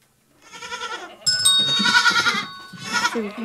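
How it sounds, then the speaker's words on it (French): A goat bleats in a few wavering, nasal cries, fairly close and clear, with no talk over it. "La chèvre"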